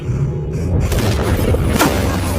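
An asteroid impact destroying apartment buildings: a dense, continuous roar of rumbling booms with crashing debris and a sharp burst of shattering near the end, loud and chaotic.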